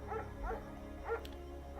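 A German Shepherd dog in the video game Firewatch gives several short barks and yips spread across a couple of seconds, over a steady low background hum.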